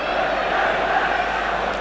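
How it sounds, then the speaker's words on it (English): A football crowd at Elland Road, Leeds, for Leeds United against Swindon Town makes a broad, continuous roar and murmur across the stadium, with a commentator talking over it. "Good crowd at Elland Road this afternoon, and they're enjoying it."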